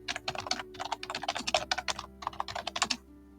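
Rapid, uneven keystrokes on a computer keyboard while a name for a customer support AI agent is entered, close and clear, in several bursts of clicks with short pauses.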